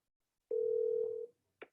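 A single steady electronic telephone tone sounds for under a second, followed by a brief click, during an outgoing prospecting phone call; quiet, with no voices.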